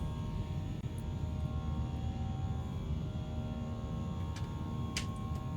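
Steady jet engine roar of a Fenix A320 climbing after takeoff in the flight simulator MSFS 2020, a constant broad drone with a few faint clicks over it.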